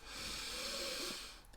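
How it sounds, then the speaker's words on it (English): A single deep, slow breath drawn in and let out close to the mic, a soft airy hiss with a faint low rasp that swells steadily and then fades away. "I'm taking deep breaths."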